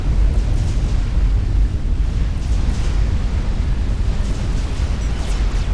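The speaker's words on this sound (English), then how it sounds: "And there's the first nuke shot down" A loud, sustained explosive rumble from a nuclear missile being shot down in a real-time strategy video game battle, a dense roaring blast that fills the whole stretch without pause.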